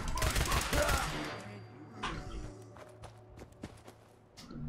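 Pistol shots in a Fallout 4 fight, a rapid burst of gunfire up front, then scattered sharp single shots and scuffling steps fading afterward.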